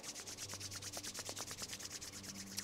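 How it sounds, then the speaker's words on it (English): Palms rubbing briskly together in a quiet room, a steady run of soft, dry swishing strokes, close and faint, with no voices. "So I like to rub my palms together."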